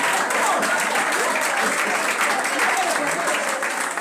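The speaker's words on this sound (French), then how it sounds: "Est-ce que tu peux acclamer pour ton voisin ce matin?" A church congregation applauds for their neighbor during a Sunday morning service, a sustained wash of clapping across the whole stretch with a voice faintly over it.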